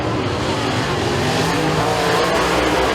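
Race cars drag race down the front stretch at Eriez Speedway, engines roaring loud and continuous as they pass close, with a roughness that may include tire noise.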